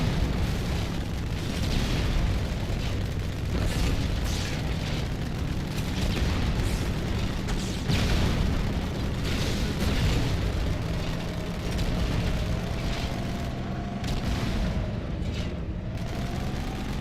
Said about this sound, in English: there's nothing like a good old rocket flood